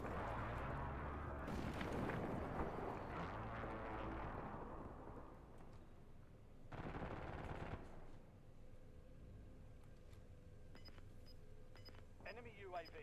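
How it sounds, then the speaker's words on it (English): Airstrike explosions in a video game: heavy rumbling blasts and rapid crackling fire fill the opening seconds, then a second loud burst follows, with quieter game sounds and a faint voice under it. "Enemy airstrike in the area."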